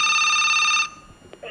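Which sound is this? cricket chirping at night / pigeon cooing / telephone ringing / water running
telephone ringing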